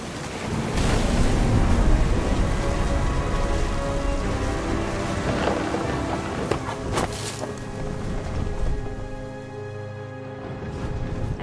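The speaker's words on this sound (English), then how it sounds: "The thunder sounded much too close and full of angry power." A stormy seaside scene in the video game What Remains of Edith Finch brings rolling rain and surf-like rushing, loud and continuous, with a sharp crack near the middle before the roar gradually thins out.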